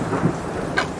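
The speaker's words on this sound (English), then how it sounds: "Outside the window, heavy winds beat rain into the buildings. It's a terrible storm" A terrible thunderstorm in the Dead Wishes game, with heavy winds beating rain against buildings. It gives a loud, continuous roar with a deep rumble, a brief sharp crackle near the end and no speech.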